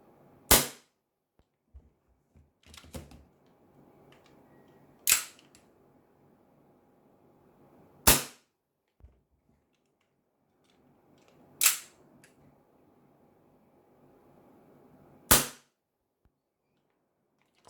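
Army Armament R603 Hi-Capa gel blaster pistol firing five sharp, separate cracks spaced a few seconds apart, each one loud and alone, with faint handling clicks and low rustle between the shots.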